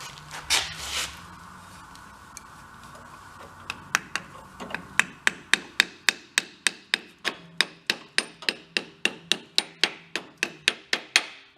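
Steady hammer taps drive a new seal into a VW Thing engine near the flywheel, about twenty sharp, evenly spaced metallic strikes ringing close and loud after a few scattered knocks.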